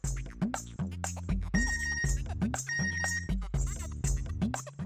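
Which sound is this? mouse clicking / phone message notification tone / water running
phone message notification tone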